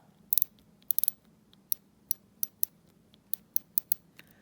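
Sharp, dry clicks from the winding drum of a 1983 Pearl grandfather clock, a quick cluster at first and then single clicks at fairly regular intervals, close and crisp against near silence.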